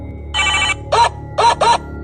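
Mobile phone ringing for an incoming chat, a loud close electronic ring in four short bursts: one longer tone followed by three quicker pulses.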